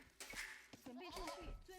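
Sheep bleating in Age of Empires II, a short, faint, wavering animal bleat over a quiet game background.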